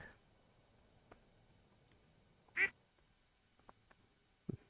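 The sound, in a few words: duck quacking in video game Stardew Valley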